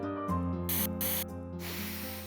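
Angel perfume spray is sprayed in two short sharp hissing bursts over a musical film score, followed by a longer, softer hiss as the music continues.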